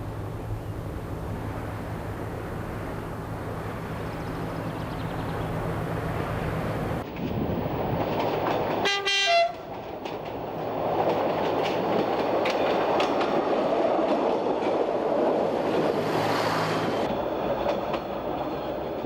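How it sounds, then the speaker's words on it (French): The X 97050 railcar runs on a Corsican railway, a steady rumble with clickety-clack from the rails. A sharp rising tone cuts through midway, and the sound continues loud and close throughout. "L'autorail gagne l'étage supérieur."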